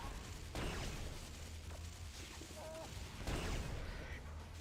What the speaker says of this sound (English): Then use my railgun to take care of the turrets